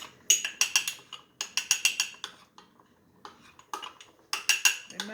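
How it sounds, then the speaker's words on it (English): A spoon stirs a flour mixture in a pot for Jamaican rice porridge, making close, bright clinks and scrapes in quick rhythmic bursts with short pauses between them. "So you mix this flour properly"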